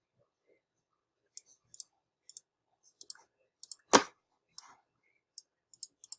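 A computer mouse gives a string of light, sharp clicks, some in quick pairs and others spaced out, close to the mic, with one louder knock partway through and no one speaking.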